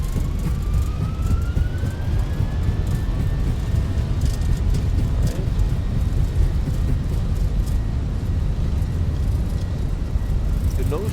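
Airbus A320 engines spooling up to TOGA thrust in a Fenix flight simulator, a loud, steady roar with a faint rising whine, continuous throughout.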